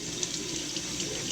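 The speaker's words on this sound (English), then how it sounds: "Rinse that fillet." Running tap water pours steadily while a crappie fillet is rinsed under it at a sink, a continuous close hiss with faint splashes throughout.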